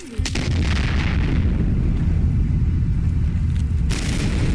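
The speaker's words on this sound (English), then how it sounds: "That was a wall grenade from this guy." A grenade blast in heavily modded Fallout 4, a sudden loud boom followed by a dense rumbling roar that holds steady for several seconds, with a second sharp burst near the end.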